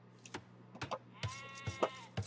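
Sheep in an Age of Empires match bleat in short, quiet game-audio bursts, mixed with small clicks and interface sounds.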